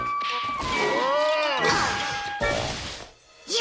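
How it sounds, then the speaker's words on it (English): A loud crash as someone smashes into the transporter in the Biker Mice From Mars cartoon, with clanging, whooshing impact noise and a ringing tone carrying through the 3.6 seconds. "How do you expect me to get this transporter repaired if you keep smashing into it?"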